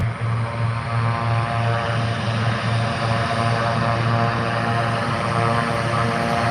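Turboprop aircraft with Garrett engines taxiing past on a flat-pitch propeller at nearly full RPM, a loud, sustained droning roar with a steady pulsing hum.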